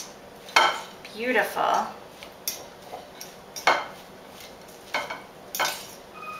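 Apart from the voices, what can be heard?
mashing and mixing raw cauliflower Spanish rice in a bowl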